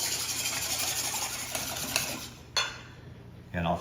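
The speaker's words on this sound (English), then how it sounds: "we're just gonna beat up those egg whites now" Egg whites are beaten by hand in a bowl, a fast steady scraping whisk against the dish for several seconds, then pausing with a couple of clinks near the end.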